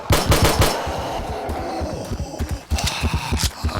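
Rapid pistol shots ring out in the zombie survival game 7 Days to Die, a loud close string of sharp cracks in quick bursts with brief gaps, and no voices over them.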